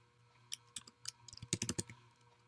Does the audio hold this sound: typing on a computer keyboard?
yes